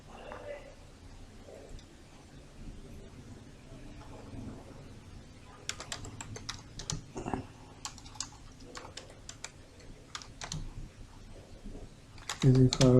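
Quick keystrokes on a computer keyboard while writing in MS Word, a steady patter of clicks that grows busier midway and sits under quiet talking throughout.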